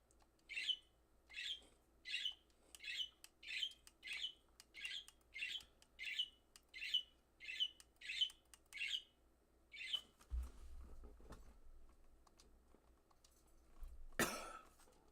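Pet birds give a long run of sharp, evenly spaced squawks, about a dozen in a steady rhythm, fairly faint and close, followed by low shuffling noise and one final harsh burst.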